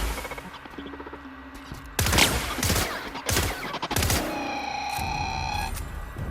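Gunfire erupts in The Outer Worlds, several loud, close bursts of rapid shots separated by short gaps, with a ringing electronic tone lingering afterward.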